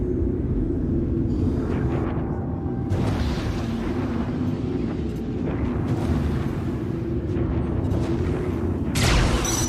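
Gunfire and explosions in the video game Star Citizen, a dense, continuous barrage of booms and bursts with rumbling low end throughout, and sharper blasts near the start, around three seconds and at the very end.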